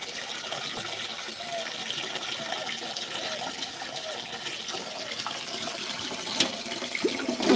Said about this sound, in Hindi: सारा दिन के लिए पानी भर के रखना पड़ता है